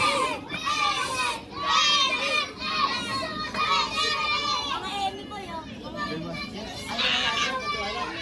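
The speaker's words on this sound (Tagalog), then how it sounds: "Huwag kayo maingay mga bata." Children at play fill the air with lively, overlapping shouts and high chatter, a steady crowd of young voices near and far for the whole stretch.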